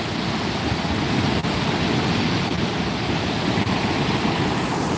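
Ocean waves breaking near a surf spot with surfers out in the water, a broad continuous roar of surf mixed with wind buffeting the microphone, steady and fairly loud with no distinct individual breakers.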